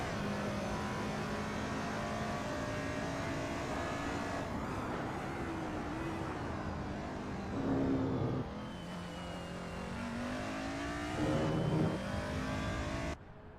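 DTM race cars from the 2000s circulating at Silverstone 2005 International in the racing game Assetto Corsa, engines droning at steady pitch with gear changes and a couple of louder close passes, no voices.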